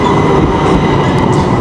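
A tram rolls along an Istanbul street in one steady, loud rumble of wheels on rail, running without a break and with a faint metallic clatter on top.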